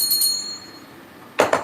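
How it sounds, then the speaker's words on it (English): A small Liberty Bell replica rung close by: a bright ringing tone decaying at first, then after a quiet gap two quick sharp strikes near the end, with no talk. "Here's my Liberty Bell."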